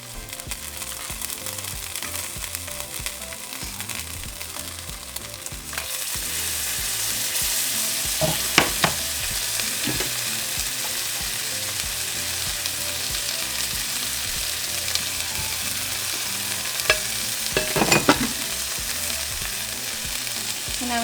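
Beef birria meat frying in a pan, a steady loud sizzle that grows denser after a few seconds, with occasional stirring clatters and scrapes breaking through the continuous hiss.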